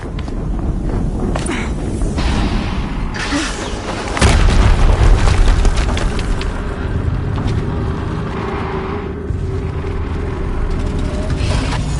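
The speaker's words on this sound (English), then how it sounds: "Another explosion." A deep boom of an explosion in the Horizon Zero Dawn video game bursts out midway through a dense, loud battle soundscape of rumbling and clatter.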